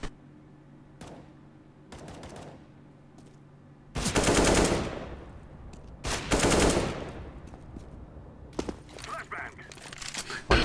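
Gunfire in a tactical shooter game: sparse single clicks and shots, then two loud sustained bursts of automatic fire, followed by scattered sharper shots toward the end.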